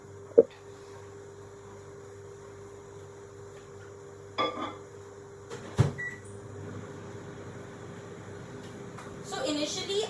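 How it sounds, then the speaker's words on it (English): Microwave oven running with a steady low hum and tone, heating a mug of cake batter, broken by a few clicks and clunks of a door or cupboard, with a voice speaking faintly at times. "now I'm just gonna quickly pop this in the microwave"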